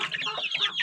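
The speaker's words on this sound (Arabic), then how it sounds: "هذه ديك نذبحها هنا عندنا ديك نذبحها" A rooster clucking up close in a continuous burst of throaty, rapid calls.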